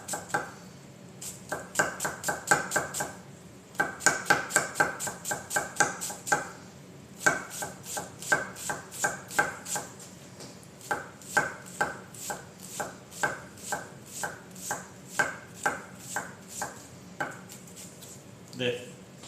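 A knife chopping an onion on a cutting board, brisk close taps in rapid even runs with short pauses between, crisp and alone.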